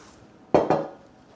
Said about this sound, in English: Got our nice little bamboo spoons. And we're just going to toss it.